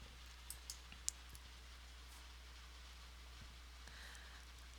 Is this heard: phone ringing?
no